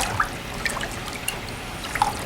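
Paper pulp swirled back and forth in a tub of water gives a steady, close trickling wash with small drips and splashes scattered throughout.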